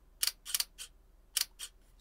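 Quick paired snaps from a camera shutter curtain dropping and rising, sharp and near, repeating a few times with short gaps in an otherwise quiet space.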